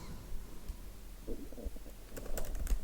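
Typing code on a computer keyboard, soft scattered keystrokes that turn into quicker clustered clicks near the end, close and fairly quiet with no talk.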